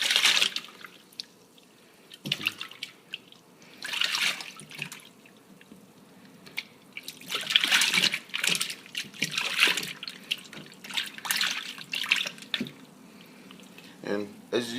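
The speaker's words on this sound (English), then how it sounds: "just gonna wash it with my hand. Just get all the dirt out of it" Shrimp being washed by hand under running tap water, with intermittent splashing and trickling bursts that come and go, fairly close, alongside a person talking.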